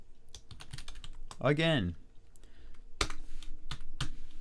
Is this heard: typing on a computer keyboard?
yes